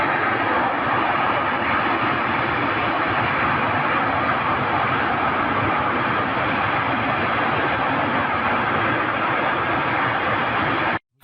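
Attack drone engine passing over the Shatura power plant, a steady loud droning hum that holds for about eleven seconds before cutting off abruptly.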